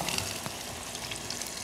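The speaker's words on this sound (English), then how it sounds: "It's gonna sizzle a bit." Onion and chili pepper frying in hot oil in a pan, a soft, steady crackling sizzle with small pops, fairly quiet and with no voices.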